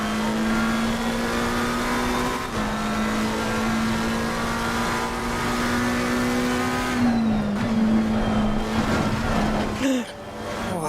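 A McLaren race car lapping Suzuka in Assetto Corsa Competizione, its engine holding a loud, steady, buzzing drone near and alone, then dipping and shifting pitch through a reluctant turn before climbing again.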